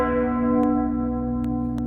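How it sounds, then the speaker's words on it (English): A church bell tolls with one long, ringing strike whose steady hum and overtones fade slowly, loud and close, with no other sounds. "the bell tolls"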